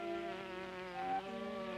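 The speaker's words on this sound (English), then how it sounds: "As the bee flies from flower to flower" Bee flying from flower to flower, a steady close buzzing drone with a slight pitch shift midway, faint and alone.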